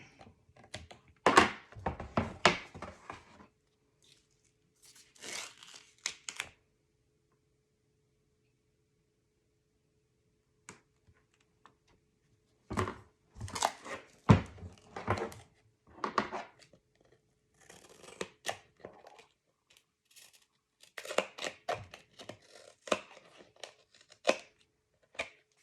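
Paper for a Stamperia album is cut with scissors in short, soft bursts of snipping separated by quiet pauses, close and fairly faint.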